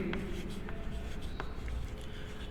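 Chalk or marker strokes on a classroom board during a chemistry lesson on alkyl halide reactions, several brief scratchy marks up close with a low room hum beneath.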